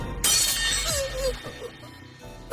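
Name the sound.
sword shattering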